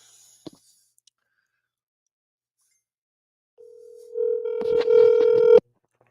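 A steady telephone dial tone sounds as a call is placed, starting quietly and then growing louder with a bright buzzy edge for about two seconds before cutting off abruptly, preceded by a faint click.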